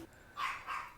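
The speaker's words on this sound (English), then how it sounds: "My dogs." A household dog gives two short, fairly faint barks in quick succession, heard alone in an indoor room.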